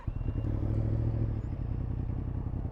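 Warm start of a motorcycle engine, which runs at a close, steady idle with a rapid throbbing beat and a slight mechanical clatter, holding even throughout.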